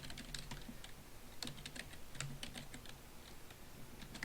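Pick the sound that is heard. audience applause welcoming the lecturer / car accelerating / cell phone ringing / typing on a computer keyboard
typing on a computer keyboard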